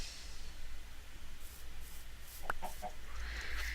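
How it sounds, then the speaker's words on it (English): A loose chicken in a city-building video game gives a few short clucks partway through, faint against a steady background hum of the game's ambience. "I would like to know how come there's a chicken loose out here"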